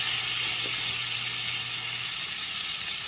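Pork chops sizzling in a freshly re-oiled, smoking pan, a loud, continuous close hiss and crackle that holds steady throughout, no voices.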